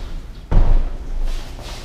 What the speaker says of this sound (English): I'm gonna go shut this door.